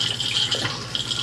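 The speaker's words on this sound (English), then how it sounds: "So this is your electric freshwater flush." Electric freshwater flush in a Thetford toilet aboard an Elddis Signature 185 caravan: a short, close, steady rush of running water.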